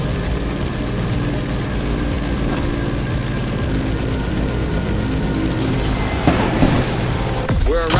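Airplane engines drone loudly and steadily as the aircraft descends toward landing in Honolulu in the video game The Crew Motorfest, a constant propeller hum with a brief swell of whooshing near the end.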